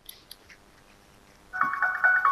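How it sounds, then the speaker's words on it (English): A motion sensor sets off an electronic bell-like chime, a steady ringing tone that starts abruptly after a quiet stretch with a couple of faint clicks and carries on to the end. "it's going to ding that bell too"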